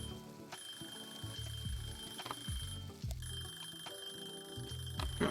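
Timer alarm ringing in the cooking video game Cooking Simulator Shelter, a steady bright electronic ring held through the whole stretch over layered game music and kitchen sounds, with no talking.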